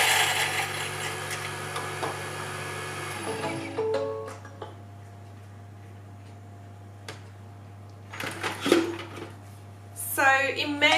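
A Thermomix TM7 blade chops chili and ginger in a short burst of dense, loud whirring, then the motor drops to a steady hum, followed by faint clicks and a few later clattering bursts.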